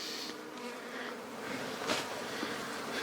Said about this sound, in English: I got the bee landing on my forehead right now, and now it's on my hand